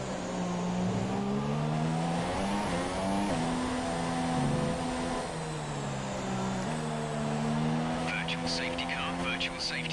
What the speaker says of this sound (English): Changing gears whilst going through corners